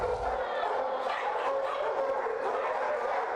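Dogs barking at the Cleveland Kennel, an animal shelter: a dense, continuous chorus of many barks and yips echoing in an indoor space, loud and overlapping without pause.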